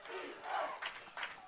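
Crowd at a Muskies versus J-Hawks football game roaring with sustained cheers and shouts that swell in several waves, distant and faint.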